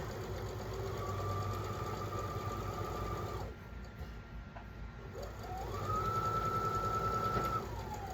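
A home sewing machine running in steady whirring bursts while quilting a block, pausing briefly in the middle before starting again, close and alone with no talking.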